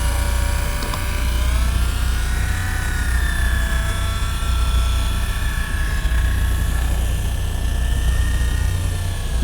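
An electric fishing reel winds up line on a boat during single-line rockfish fishing, giving off a steady motor whine with gently drifting pitch over a low rumble, continuous and fairly close throughout.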